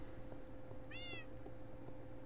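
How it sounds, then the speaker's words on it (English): A single short meow from a kitty cat in Minecraft, clear and alone over a steady low game background hum. "I'm glad that I got a"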